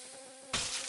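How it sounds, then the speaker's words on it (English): Mosquitoes buzz in Blighttown in Dark Souls, a thin insect whine that jumps to a louder, close, broadband swell in the second half of the brief moment. "Sad thing about these damn mosquitoes is they're never ending."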